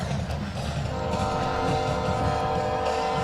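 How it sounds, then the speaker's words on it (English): Trains rumble past near a varsity football game between Jacksonville and Palestine, a steady loud rolling roar with a sustained horn tone running through it. "How many trains is that? That's at least 4."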